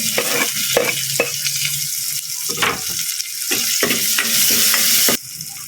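Onion and garlic sautéing in a pan while being stirred, a steady loud sizzle broken by repeated clanks and scrapes of a utensil, with no talking.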